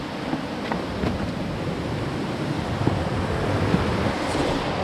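A mountain river in Arunachal Pradesh rushes over algae-covered rocks in a steady, broadband roar that stays constant throughout, with no voices.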